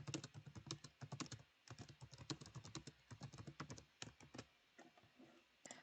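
Quiet, steady typing on a computer keyboard, a dense close run of soft key clicks with short pauses and no speech.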